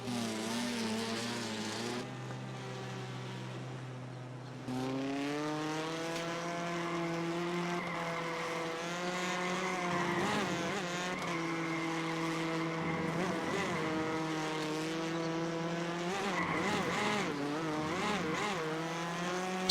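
Race cars in the iRacing Arcade video game: a sustained, tonal engine whine with shifting revs and gear changes, several cars audible, with brief dips and surges, alone without talk.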